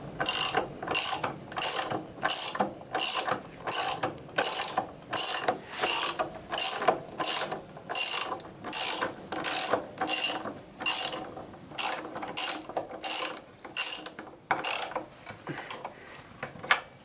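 Rapid ratchet clicking from a wrench tightening a car wheel's nut, a steady run of sharp close clicks in short bursts, alone without talk.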